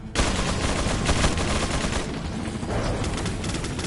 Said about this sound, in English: I have no idea what's shooting me up from where.